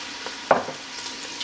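Rice being stirred into onion sweating in olive oil in a pan, a soft scrape and gentle sizzle with one sharper stir stroke near the start.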